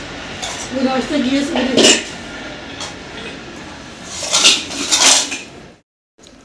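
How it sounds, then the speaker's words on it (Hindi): Dishes and utensils clinking as a woman gathers them up after breakfast at home, a few scattered clatters with short bursts between her quiet talking. "बर्तन इकट्ठे कर रही हूँ"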